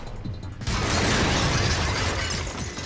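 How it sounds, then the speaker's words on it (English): Glass platforms shatter in the Splatoon single-player game, a sudden loud crash after a short lead-in, followed by a dense scattering, tinkling cascade of breaking shards that fades slightly, with no voices. "he breaks the platforms, and now there's a bunch of glass everywhere"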